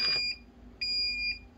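A brewing timer beeps twice during a home brew day, sharp high electronic tones close by, each lasting about half a second, with a brief clatter at the start.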